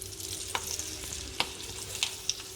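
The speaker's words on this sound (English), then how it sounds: "Now in the same oil, we're gonna fry the Parippu Vada" Parippu vada bubble and sizzle as they deep fry in oil, a steady close hiss broken by a few sharp pops and crackles.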